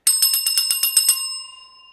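A handheld bicycle-style bell is dinged rapidly about nine times in a bright metallic flurry. The last strike is left to ring out, and the clear tone fades slowly into silence.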